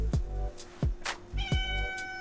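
A pet cat meows several times, short calls close to the microphone over a steady background hum, with no talk.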